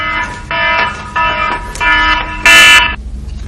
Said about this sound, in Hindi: अलार्म बज गया मेरा